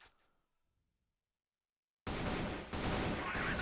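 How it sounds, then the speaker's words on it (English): Rapid gunfire in a first-person shooter esports grand final match, a dense loud burst of shots starting abruptly after near silence and continuing to the end. "Some pot shots through the smoke."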